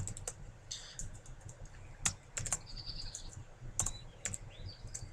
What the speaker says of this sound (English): if I can type an exclamation point and hit submit